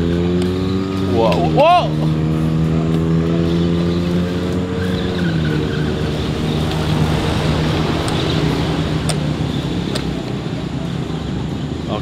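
Hot Wheels amphibious toy car with a motor, driving off-road over grass: a steady, buzzing whine that rises sharply in pitch and then settles, continuing under a man's brief excited exclamations.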